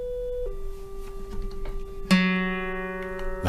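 A guitar's G string rings against a sustained reference tone, then is plucked louder at about two seconds, the two pitches ringing together as it is brought up to match.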